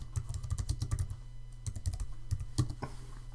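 Rapid keystrokes on a computer keyboard as a quiz title is typed, a close series of crisp clicks in quick bursts with a short pause in the middle, and no voices.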